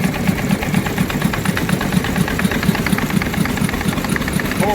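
An engine-driven 20-inch corn mill with granite stones runs steadily at a machinery show, a loud continuous mechanical drone with a fast regular thumping beat.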